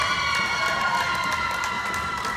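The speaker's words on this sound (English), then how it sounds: "the crowd cheering their hearts out" Basketball crowd at an interlodge game cheering loudly and continuously, a dense steady roar of voices with scattered shouts and no break.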